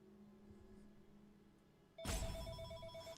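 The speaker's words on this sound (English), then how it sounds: "Answer this phone call real quick." A telephone rings loudly and suddenly, a steady repeating electronic bell tone that bursts in after a quiet stretch of low background hum and stays close and prominent to the end.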